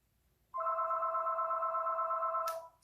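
A telephone rings with one steady, loud electronic tone that holds for about two seconds, then stops abruptly with a short click.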